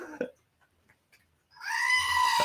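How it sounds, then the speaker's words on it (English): A goat bleats loudly in a sustained, wavering cry during the last second, following a brief murmur of voices and near silence. "We woke up the goat."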